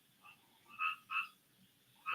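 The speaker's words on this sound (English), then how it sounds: "There's a loud frog right outside the window" A loud frog croaking just outside a window, three or four separate croaks spaced across a quiet room with no talk.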